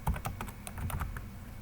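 Keys clack in a quick, uneven rhythm as a company name is typed on a computer keyboard, the clicks close and distinct with brief gaps between them.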